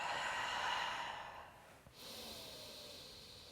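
Calm breath during yoga practice, a steady airy exhale tapering off, followed by a short catch and a fresh soft breath, heard up close without any speech.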